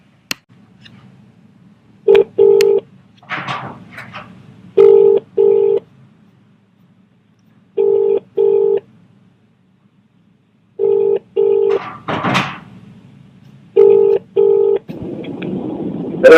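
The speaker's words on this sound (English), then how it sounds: "So we're going to give Craig a call and give him the good news." A telephone call being placed: a couple of isolated button presses, then paired dial tones repeating in short, regular bursts, a brief rustle, and a faint hiss rising at the end.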